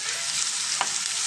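Sliced onions, three for a chicken curry gravy, fry in four spoons of hot oil in a pan, giving a steady, close hiss with one brief soft stir or clink partway through and no voices.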